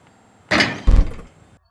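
A basketball in the GameGuru Max game engine strikes the rim, giving a sharp hollow knock followed by a heavier deep thud, two close impacts that fade within about a second.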